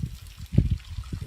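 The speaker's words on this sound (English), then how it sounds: "Apparently there's 4 waterfalls here." A waterfall's flow comes through as a low, burbling rush, close and steady, with a couple of louder splashing swells partway through; nobody speaks.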